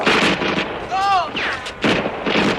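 Gunfire in a film action scene: loud, close bursts of shots and blasts with ringing, whistling tails, interrupted by a short gap before more firing.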